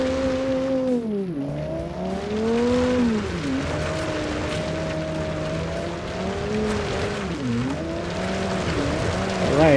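A car in the Automation driving game revs and shifts with rising and falling engine pitch while tires squeal and skid through turns, steady and fairly loud with no talking.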